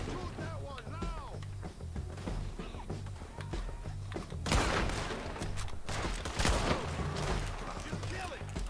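Gunfire in the video game Red Dead Redemption 2, a ridgeline shootout: a rapid, dense volley of sharp shots breaks out and keeps cracking loud and close, while voices talk underneath.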